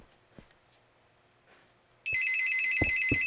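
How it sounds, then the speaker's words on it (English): A phone rings loud and close with a steady electronic trill that starts abruptly and continues, over a quiet room with a few soft knocks and clicks. "Sorry, my phone's ringing"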